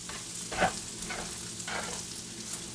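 Chopped pork chop pieces frying in a pan, a soft continuous sizzle with a few brief stirring scrapes, close and fairly quiet with no talk.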